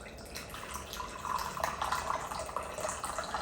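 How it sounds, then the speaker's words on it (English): Tea, a mix of green tea and sticky cacao chai, poured into a cup as a steady close trickle of liquid for a few seconds, quiet and continuous with no talk. "I'm going to pour myself some tea."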